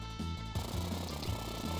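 A chainsaw attack effect from Final Fantasy 3/6, a harsh buzzing, rattling drone with repeated low pulses, steady and loud for under two seconds.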